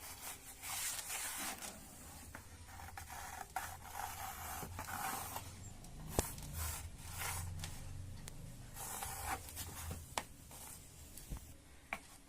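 Pencil drawing a cone-shaped radish outline on a cardboard sheet gives a continuous dry scratching and rubbing, with short strokes and small taps, close and fairly quiet, no talking.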